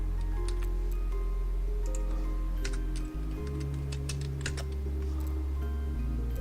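Fingers tap out a short burst of key clicks on a computer keyboard, close but fairly quiet, over a steady low hum in a room without speech.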